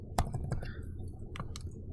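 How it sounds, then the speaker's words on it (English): An equation is typed into Desmos on a computer keyboard, a few light, separate key clicks close by over a soft background hum. "All we have to do is just type our equation here"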